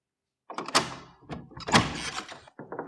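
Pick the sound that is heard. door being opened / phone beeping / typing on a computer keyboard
door being opened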